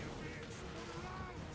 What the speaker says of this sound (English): Flame cannon blasting in. Oh! Oh my god, I love the explosions.